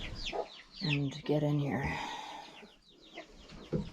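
Hen clucking near a close human voice, a Black Copper Marans mother moved into an outdoor pen with her five chicks; soft repeated clucks run under and between the speech.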